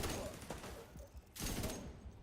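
Video game gunfire from The Division 2 crackles in a few quiet bursts, with irregular bursts separated by short gaps.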